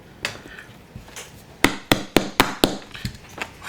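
Small control rod poking screw holes into soft balsa wood for a control horn on a Ritewing Mini Drak model kit: a series of sharp, close taps and thumps, sparse at first, then a quick run of about six evenly spaced strikes.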